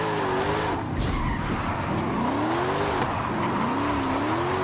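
A Mercedes-Benz drifting in Forza Horizon 5 gives off sustained, wavering tire squeals over a loud revving engine, with the pitch sweeping up and down through several long slides.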